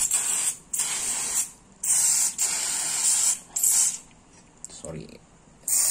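Cleaner sprayed onto a motorcycle's CVT transmission after driving through floodwater, coming in several long hissing bursts at close range with short pauses between them, and someone speaking in the gaps.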